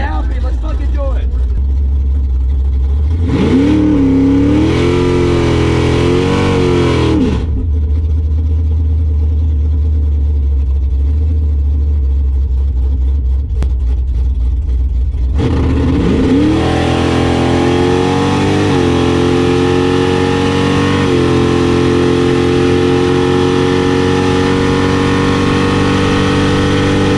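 A drag race car on its first test pass at Sick Week Summer, the 'Slow Quest', idles with a deep steady rumble, revs up sharply, then launches into a long loud roar as the engine climbs through gears, with voices talking over it.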